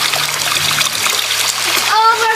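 Irrigation water overflowing its catch container and splashing onto the ground, a continuous spattering rush close by, with people, including a child, talking over it near the end.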